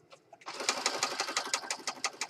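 A sewing machine stitches around the edge of a junk journal page in a rapid, steady run of close, loud needle strokes after a brief start.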